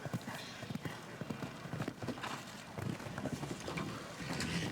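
Hooves of a show jumping horse thud and clip-clop rapidly in the arena, a steady near rhythm of hoofbeats under a faint background murmur.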